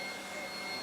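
An electric ducted fan in a giant Nerf gun whines loudly and steadily, a dense broadband roar with a high tonal whine.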